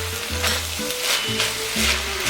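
Bacon and onions fry in a pan for homemade chili, a steady close sizzle and crackle with soft stirring bumps throughout.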